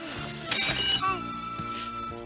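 Glass shatters with a bright, tinkling crash as a canister explodes in a cartoon, a short burst of breaking shards over a sustained musical score, with clinking fragments trailing after.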